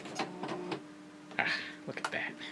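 Tandy printer starting up, a short burst of mechanical ticking, whirring and clicking close by, with a voice talking over it.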